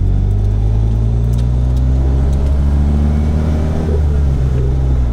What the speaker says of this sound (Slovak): A plná akcelerácia.